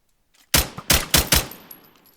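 Four sharp gunshots ring out in quick succession in a Minecraft horror game, fired at Herobrine, loud and close with short decaying tails, followed by a faint high tone.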